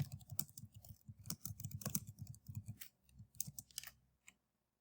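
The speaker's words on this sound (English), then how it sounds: "You can type your message" Brisk typing on a computer keyboard as a chat message is entered, quick close clicks in uneven bursts with short pauses, then a final few keystrokes before it falls silent.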